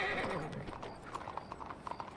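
Horse hooves clip-clopping with a brief whinny in the Red Dead Redemption video game, soft and steady beneath a faint wash of background game sound.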